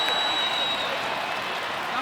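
A stadium crowd at a 2024 NRL rugby league match between the Knights and Wests Tigers roars steadily after a tackle, a dense, sustained wash of cheering under a commentator's talk.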